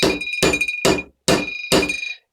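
Light, steady hammer blows seat a clutch hub, five close metallic taps in an uneven rhythm, each ringing briefly before the next strike.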